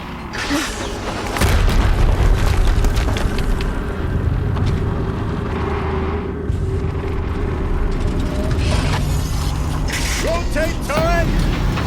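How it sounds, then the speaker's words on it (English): Explosion in the video game Horizon Zero Dawn: a heavy, sustained booming rumble with mechanical clanks and whirring machine noise continuing throughout, loud and dense. "Another explosion."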